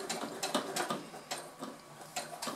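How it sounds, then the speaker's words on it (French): A sewing machine runs in short bursts while stitching fabric slowly along a marked straight line, giving a rapid mechanical ticking and clatter that starts and stops at close range. "On va doucement pour coudre le plus droit possible."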